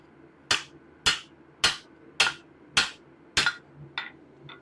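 A hammer strikes a steel gardening trowel on an anvil, six evenly spaced sharp metallic blows ringing close and loud, followed by two lighter taps.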